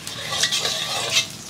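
Hot oil hisses steadily in a large wok during a brief stir-fry of aromatics, with soft scraping and a metal clink near the end.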